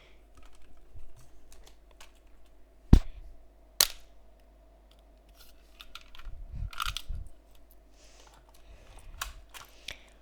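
A toy Glock 26 shell-ejecting gun fires two sharp cracks close by, with mechanical clicks and handling noise in between.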